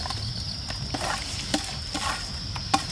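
A marinade with ginger paste, garlic paste, raw tomato, chopped onion and mustard oil is worked together by hand, giving soft wet squelching and stirring with a few sharper clicks over a steady low hiss, close by and without talk.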